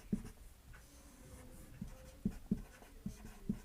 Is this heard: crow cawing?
no